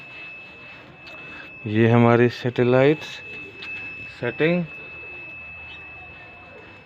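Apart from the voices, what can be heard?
satellite finder meter beeping on receiving dish signal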